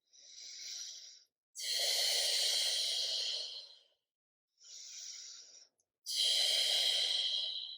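During floor stretches, two slow breath cycles are heard, each a softer inhale followed by a longer, louder, airy exhale, close to the microphone with silent gaps between.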